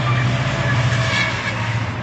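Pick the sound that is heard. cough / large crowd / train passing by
train passing by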